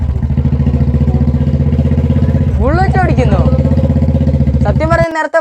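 A Royal Enfield Bullet motorcycle thumps along with a loud, steady single-cylinder beat, while people talk over the engine and sharper tonal sounds rise near the end.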